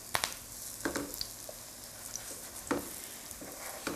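Sweet corn fritters sizzle steadily in a hot pan, with a soft continuous fry punctuated by occasional sharper crackles and small pops, close and moderately quiet with no talking.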